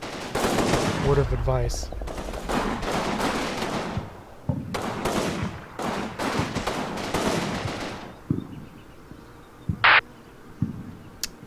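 Bursts of machine-gun and rifle fire from the World War II strategy game Combat Mission: Fortress Italy, a village building assault, rattle in repeated volleys while someone talks over the first half.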